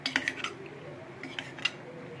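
Prawns being mixed by hand with green chilli, salt and oil in a bowl, giving a few soft clinks and wet scrapes in two short bursts, close and quiet, with no talking.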